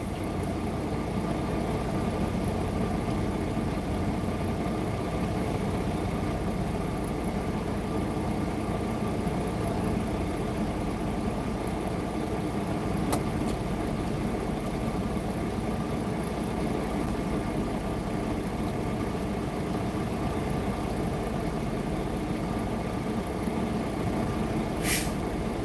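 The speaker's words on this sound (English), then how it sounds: "trying to get this truck straight in the damn parking stall" A truck engine idling steadily while the driver inches it back and forth into a parking stall, a continuous low droning rumble throughout with a couple of faint brief clicks.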